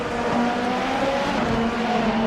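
Racing cars lapping the SUGO circuit in a sim racing game give a continuous high engine whine with slight pitch changes, steady and fairly loud with no breaks.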